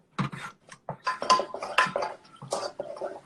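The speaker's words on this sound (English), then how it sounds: "I would just give it a mix and get it nice and warm." A spoon scrapes and clinks against a pot while cheese sauce for buffalo chicken mac and cheese is stirred, a series of close, irregular metallic scrapes and taps.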